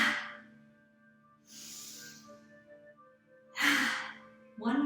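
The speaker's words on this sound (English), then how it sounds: "inhaling through the nose and exhaling through the mouth forcefully" Forceful yoga breathing, drawn in through the nose and pushed out through the mouth, comes as several loud, breathy huffs separated by quieter gaps.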